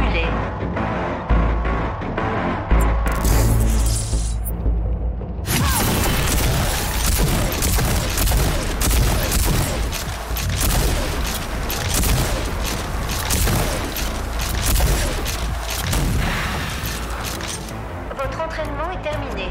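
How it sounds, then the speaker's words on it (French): Overdrive shotgun blasts fired at simulated enemies in the video game Rage 2, dense loud repeated booms and gunfire over continuous game action and music, with voices speaking at times. "Utilisez l'overdrive du fusil à pompe contre les ennemis simulés"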